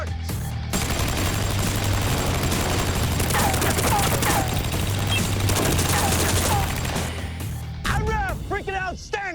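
A SAW machine gun fires 5.56 mm rounds at a riot shield in a loud, sustained burst of rapid automatic fire lasting most of the clip, followed by a few sharp ringing impacts near the end.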